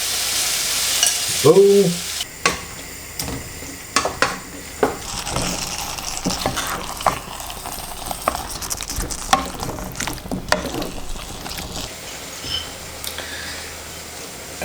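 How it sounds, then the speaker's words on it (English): Passata, strained tomatoes, poured over sizzling ratatouille vegetables in a pan, with loud frying hiss, repeated stirring scrapes and clatters, and a brief spoken remark near the start. "I will add the passata, strained tomatoes, and half of"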